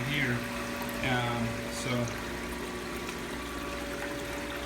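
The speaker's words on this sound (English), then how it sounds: "it's actually, you know, flowing a decent amount of water back in here" Water flowing from pipes back into a tilapia tank, a steady splashing trickle and gurgle under a continuous pump hum, with brief speech over it.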